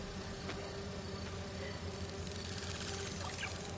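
Swarming bees in Marvel's Spider-Man 2, a dense continuous buzz with steady hum and scattered faint clicks, held at an even level throughout with no clear talk.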